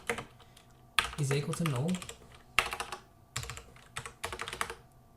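Code typed on a computer keyboard in bursts of quick, close keystrokes, clattering between pauses, while someone speaks over parts of it.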